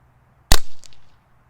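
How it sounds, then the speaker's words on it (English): A Brocock Concept Lite airgun fires a single pellet, a sharp loud crack followed by a short ringing tail and a fainter pop of the pellet striking downrange, with quiet room tone before it. "Let's see how fast we're shooting here."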